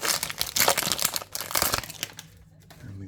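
One Piece Nova 5 card booster packs are ripped open with loud, close foil crinkling and tearing in rapid bursts, easing off near the end.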